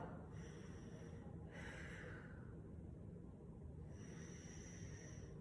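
Slow, quiet breaths as part of a relaxation exercise: a soft inhale through the nose followed by a longer, airy exhale through the mouth, faint over a steady background hiss.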